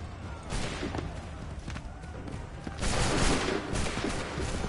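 Musket volleys crackle across an Assassin's Creed III battle, with ragged overlapping shots rolling continuously and a louder cluster of reports swelling midway, set against a busy battlefield din.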